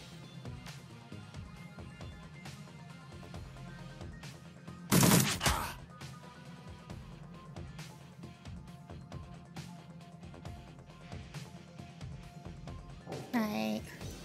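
Gunfire in the turn-based video game Shadowrun Returns: one sharp, loud burst of shots near the middle and a shorter crack near the end, with faint background music throughout.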